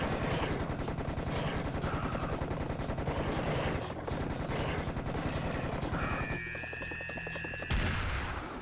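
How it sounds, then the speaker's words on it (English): Sustained machine gun fire in a video game, a dense rapid stream of loud overlapping shots lasting several seconds, then a brief mechanical whine and a sharp burst near the end. "I'm just gonna use a machine gun."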